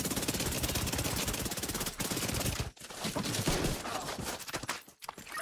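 Sustained automatic gunfire from The Division 2 hammers away in a close, enclosed space, a dense rattling stream broken by a few short pauses.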